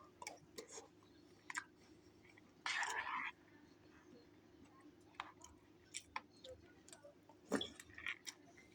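Quiet, close chewing of a piece of food, with soft mouth clicks, a brief rustle and a faint clink spread through a calm indoor room.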